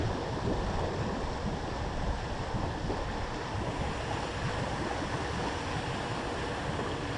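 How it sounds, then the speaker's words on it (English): A ventilation blower runs steadily in a house on Tucker St, McKinney, Texas, giving a constant, loud, broadband rushing whoosh with no pauses and no talk. "But the blower is blowing away."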